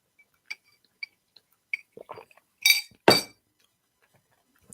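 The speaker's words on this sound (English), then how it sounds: "That's my drink that you're hearing" Glasses clink in a few sharp, bright taps during a toast, followed by louder clattering of glass as a drink is taken, close up with no talk.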